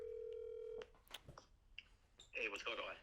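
A telephone call is being placed to a friend: a steady dial tone sounds close for under a second, then faint line clicks and tones follow, ending in a louder burst of voice down the phone line.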